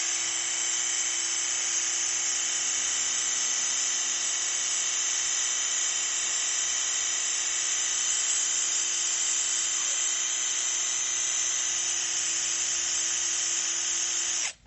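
A cordless 5-in-1 multi-head drill fitted with a fine-nozzle cleaning attachment runs as a steady, loud, high-pitched whine, unbroken for the whole stretch before cutting off abruptly at the end.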